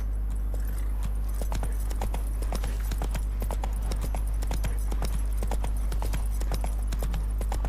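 Horse hooves clip-clop at a steady, even gait in The Witcher 3, a continuous run of crisp hoofbeats over a low steady hum, with no talking.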